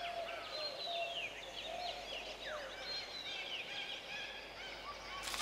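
Parrotbills calling in a bamboo thicket, a stream of thin, high chirps and squeaky whistled notes repeating over a soft steady background hiss, at moderate distance and with no voices.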